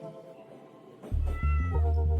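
A cat meows loudly and close, a single drawn-out cry with a rising, wavering pitch, entering over soft background music after about a second.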